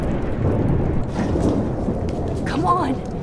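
A loud storm rumbles in Life is Strange, with a steady wash of rain and low thunder filling the scene, and a voice breaking through near the end.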